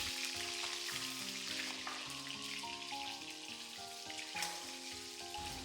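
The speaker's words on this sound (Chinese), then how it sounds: "小火翻炒，将它们炒散，炒出香味" Century egg and salted duck egg stir-fry over low heat in a wok, giving a steady close sizzle with occasional scraping, under a layer of tonal background music.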